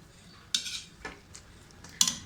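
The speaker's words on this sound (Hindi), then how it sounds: "अब इसको मैं ऊपर नीचे करके चम्मच हिला के" A metal spoon stirs minced meat with peas in a cooking pot, giving two sharp clanks against the pot about a second and a half apart, with a lighter scrape in between.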